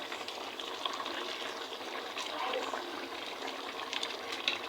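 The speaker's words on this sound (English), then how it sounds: "I'll put everything in the fire. I'm gonna allow it to cook." Soup cooking over an open fire in an African village, a steady faint bubbling and crackling hiss with no voices.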